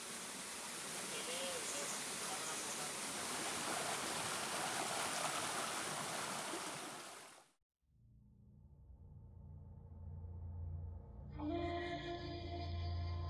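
Water from mountain springs in Oman flows in a steady, full rushing stream, then drops out abruptly before a quieter flow returns with a brighter wash of sound near the end.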